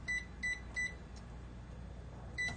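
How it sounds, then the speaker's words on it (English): A kitchen timer beeps in quick short bursts, three evenly spaced chirps followed by a pause and one more, small and clear over a faint hum of kitchen background noise. "Let me set my timer here."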